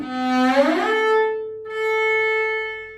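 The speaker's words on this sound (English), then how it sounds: "the first harmonic A is just a quaver, so it's going to be quite a short note" Two sustained tones on a string instrument, both harmonic A notes, with bright, ringing harmonics, the first a short quaver sliding slightly as it starts, the second steady and fading out, heard alone.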